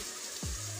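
Chicken meat dropped into hot oil in a pan for a Bengali chicken kosha, a brief splash followed by a steady, close sizzle.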